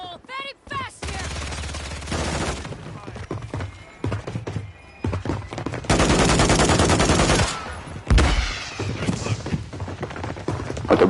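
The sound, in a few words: gunfire in a video game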